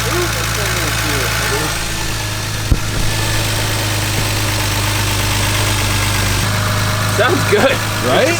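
A car engine with a freshly rebuilt cylinder head idles smoothly and steadily close by, a constant low hum, while people talk over it throughout.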